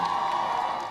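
Immense crowd along the Long Walk cheering for the newly married Meghan and Harry at their royal wedding, a dense continuous roar of voices and whoops filling the air without pause.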